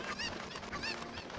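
Several close, loud cucco chicken clucks from the video game Zelda: Ocarina of Time repeat over a constant busy game soundtrack, with no talking over them.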